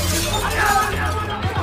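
Armed soldiers smash down doors during a dawn raid on an apartment complex, a loud continuous crashing and splintering that runs throughout, with a couple of heavier blows near the end.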